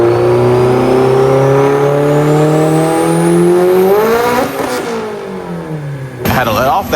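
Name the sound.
Mitsubishi Evo stock-block engine with AGT64mm turbo, dyno pull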